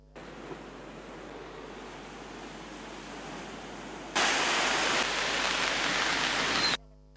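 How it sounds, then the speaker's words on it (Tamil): Rough sea surf pounding the coast at Galle, Habaraduwa and Samudra Mawatha at night, a steady broadband roar of breaking waves that swells sharply louder partway through and holds before cutting off. "காலி, ஹபராதுவ மற்றும் சமுத்திர மாவத்தி ஆகிய பகுதிகளில் நேற்றிரவு அலையின் சீற்றம் அதிகரித்து காணப்பட்டது."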